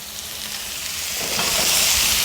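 Filet mignon sizzles in a hot pan with butter and soy sauce, a steady close frying hiss that grows louder and brighter as the butter melts, with no voices.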